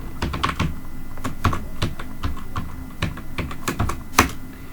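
Quick, irregular keystrokes on a computer keyboard while text is typed into MS Word, close and crisp with uneven pauses between bursts of clicks and no voices.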